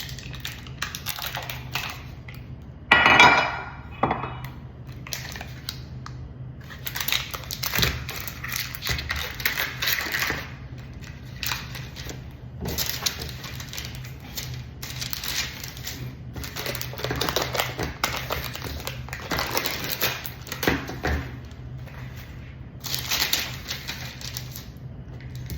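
Knife cutting through a frozen homemade 3 Musketeers bar, heard as a series of close, irregular scraping and tapping cuts with brief pauses between strokes.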